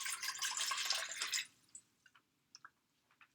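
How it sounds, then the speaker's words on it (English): Two cups of water poured for Rwandan isombe, a steady broadband splash for about a second and a half, then a few small drips and trickles close by in a quiet kitchen. "We're going to start with 2 cups of water."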